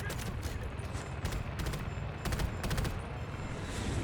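Bursts of rapid gunfire from the shooter game Delta Force, several quick volleys crackling in close succession over a constant rumbling bed.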